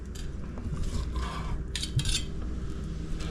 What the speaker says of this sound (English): we're just gonna slice this up and put it on our plates here